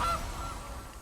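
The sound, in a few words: goose honk in the video game MtG Arena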